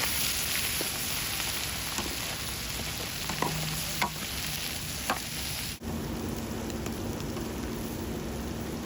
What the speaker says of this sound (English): Nothing fancy, just heat, onions, fat, meat, and constant stirring until the whole thing slowly comes